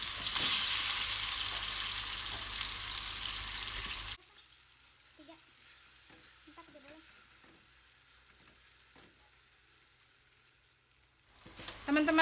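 Ground spice paste frying in leftover oil in a pan, a loud, dense sizzle for the first few seconds that drops away abruptly to quiet, with faint clinks and a brief rush of sizzling returning at the end.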